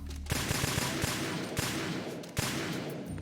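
Gunfire in Metal Gear Solid strikes room objects as a rapid run of sharp, close shots, roughly a dozen cracks in quick irregular succession over a continuous hissing bed of game noise.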